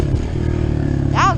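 A motorcycle ridden on dirt trails behind a property, steady engine drone with a short rev rising and falling near the end, close and loud under wind-buffeted noise.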